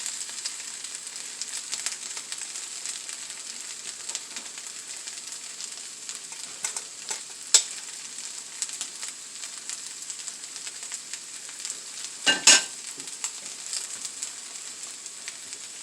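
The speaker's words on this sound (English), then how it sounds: "we're going to go ahead and throw our luncheon meat in there" Luncheon meat sizzles steadily in a hot pan, a continuous bright hiss from start to finish, broken by a couple of brief scraping stir sounds.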